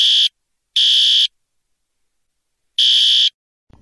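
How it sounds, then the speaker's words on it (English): Three loud electronic fire alarm bursts ring at a water park in a video game, short repeated tones with gaps between them, alone and clear. "Sounds like Jane Fitzgerald pulled the fire alarm at Wodny Park, Warszawianka."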